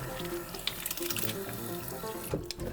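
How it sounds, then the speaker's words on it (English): Water runs from a tap into a sink on a farm growing food gardens, a steady continuous splashing stream close by that lasts throughout. "Put just a little bit of water in there, not too much, just enough to get it going"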